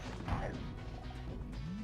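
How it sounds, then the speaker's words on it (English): A heavy crash and thwack as a rock smashes a character in the video game Spyro 2: Ripto's Rage!, a loud game impact over continuous in-game music and effects. "Smashes him with a rock."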